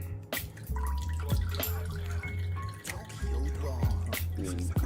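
Homemade cold brew coffee, thick like mud, drains through a strainer in a steady close trickle, with scattered drips and splashes throughout.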